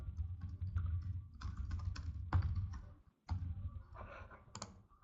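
Typing on a computer keyboard, with rapid irregular clatter of keystrokes in short bursts broken by a brief pause, close and fairly quiet.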